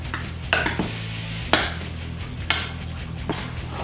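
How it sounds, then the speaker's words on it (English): Potato filling mixed and mashed in a bowl with a utensil, giving a few distinct knocks and scrapes against the bowl at roughly one-second intervals over a low steady hum, with no talking. "Now we're going to just mix this all up. We're going to kind of mash it all together."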